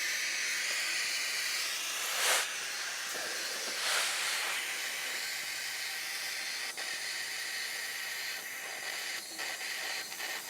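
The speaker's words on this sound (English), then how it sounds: "Got my little torch." A small handheld torch hisses steadily and close while melting into a starter wire for a splice on a Jeep YJ. The hiss runs continuously with a couple of brief louder flares.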